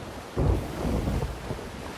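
Thunderstorm in the pirate game Sea of Thieves, a deep rumbling roll of thunder mixed with rain and wind, steady and broad without any talk.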